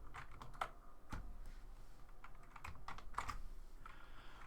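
Keys clacking on a computer keyboard in an irregular run of quick taps with short pauses, close and fairly quiet against a low background hum.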